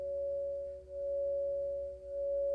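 Crystal singing bowl from Crystal Tones ringing a sustained pure C sharp tone, steady and clear with gentle slow pulsing swells, alone without speech.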